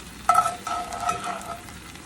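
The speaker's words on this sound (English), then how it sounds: "Let it saute while the butter's melting." Butter sizzling and sautéing in a hot pan alongside aromatics, a close, steady frying hiss that swells with a crackling burst early on and stays even to the end, with no voices.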